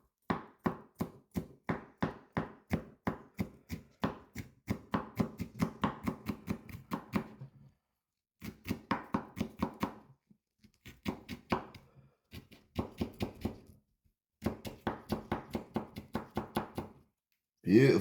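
Corna di Capri peppers chopped with a sharp knife on a board for Italian fall preserving, rapid rhythmic blade taps in several runs of steady strokes separated by short pauses, close and crisp.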